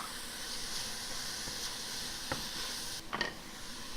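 Italian sausage with onions, garlic and sage frying in a pan, giving a constant close sizzling hiss broken by a few scraping stirs of the spatula toward the end.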